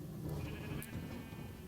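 A sheep in Minecraft gives a short blocky bleat over a steady hum of background game noise, fairly faint and alone.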